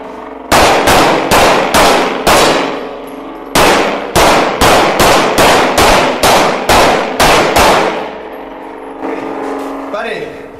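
A handgun fired in rapid succession, with two quick strings of about a dozen loud, sharp, close shots each before the firing stops.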